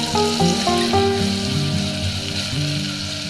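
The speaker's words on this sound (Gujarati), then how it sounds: "ટમેટાના ટુકડા ઉમેરાઈ જાય ને પછી તુરંત જ કુકરમાં તેને આપણે વધારે મિક્સ કરી અને સહેજ એવું સાતળશું." Chopped tomatoes and onions sizzle and fry loudly in oil inside a pressure cooker during tempering, a dense continuous crackle with scraping stirring.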